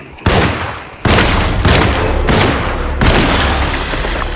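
Loud gunshots in Alone in the Dark, four heavy booming blasts spaced about a second apart, each with a sharp onset and a long rumbling decay filling the gaps.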